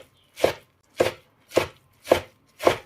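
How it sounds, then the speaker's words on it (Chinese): Five evenly spaced knife chops through squeezed-dry blanched cabbage on a cutting board, each a crisp close thud about half a second apart, with no talking. "再给它改刀，都给它切碎一点"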